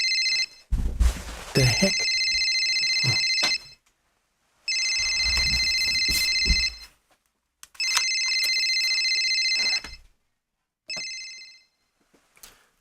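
A cell phone rings in three loud bursts of an electronic bell-like ringtone separated by short pauses, with a brief spoken exclamation before the ringing begins.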